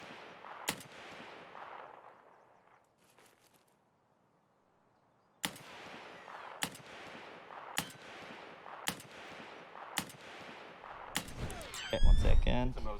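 Semi-automatic rifle shots ring out one at a time as sharp, loud, close cracks, about eight in all, spaced roughly a second apart after a brief quiet pause, ending in a flurry of noise.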